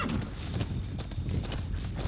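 D-Horse, the horse in Metal Gear Solid V: The Phantom Pain, gives soft clip-clop hoof steps and a faint whinny-like snort, moderately close over a steady game ambience.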